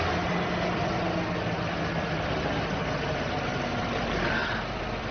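A German car engine idles steadily and loudly at close range, a continuous low rumble with no voices over it.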